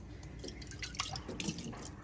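Water trickles and splashes into a drinking glass, a faint, close pour with small irregular drips and bubbling.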